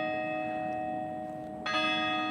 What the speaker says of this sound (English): 5 o'clock right now because we heard the bell ring 5 times